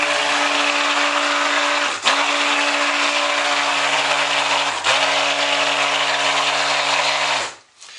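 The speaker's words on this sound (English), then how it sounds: "it's going to need some stick blend" A stick blender whirs steadily as it mixes soap batter, a loud, close, continuous motor drone that dips briefly twice as it pauses and then winds down at the end.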